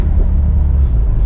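A Peugeot 205 Turbo 16 Série 200, a museum car with very low mileage, hums along with a steady low engine and road rumble from inside the cabin, continuous and even throughout.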